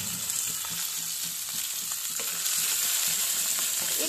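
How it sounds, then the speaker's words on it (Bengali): Shrimp fries with onions in hot oil, a continuous close sizzle carrying a loose rhythm of soft stirring knocks and scrapes throughout, no one speaking. "তো তার জন্য আমি পেঁয়াজের সাথেই চিংড়ি মাছটা দিয়ে দিচ্ছি"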